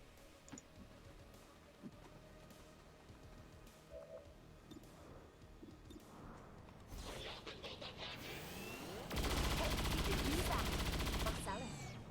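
Rapid fire from a soldier in XCOM Long War mod arrives as a quick burst of gunshots, followed by a loud, sustained roar of weapon fire lasting a couple of seconds, over game ambience.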